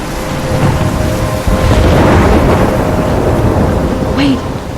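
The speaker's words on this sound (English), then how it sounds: "I'm trapped in a storm?" A thunderstorm in the video game Life Is Strange, with heavy rain hissing steadily and a deep thunder rumble swelling in the middle, loud and enveloping throughout.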